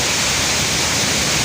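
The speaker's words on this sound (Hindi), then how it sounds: "ये खिड़की के ज़रिए मोटरों में पानी आ रहा है" Water pouring in through a window onto flooded pump motors at a Karachi pumping station, a loud, steady, dense rush like a small waterfall filling the whole clip.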